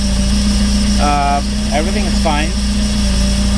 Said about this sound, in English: as you see, the engine up and running